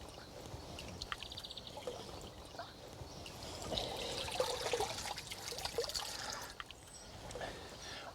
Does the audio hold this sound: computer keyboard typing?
no